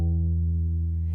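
An E octave sounds on a bass guitar fretted at the twelfth fret, a single sustained low note ringing steadily and clearly on its own before fading slightly.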